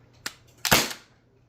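A single shot from an HPA-converted Novritsch SSX303 bolt-action airsoft rifle firing 0.36 g BBs, a light click followed by a sharp, close pneumatic crack and a short hiss that quickly fades, alone without talk.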